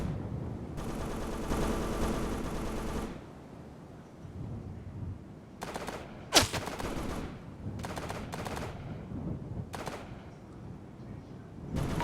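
Artillery fire in the Operation Flashpoint: Dragon Rising video game: a sustained rumbling barrage, then a sharp loud blast followed by several scattered booming impacts, heavy low-end and no voices.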